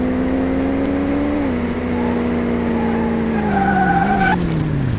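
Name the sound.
car tires skidding in Car Mechanic Simulator 2018 video game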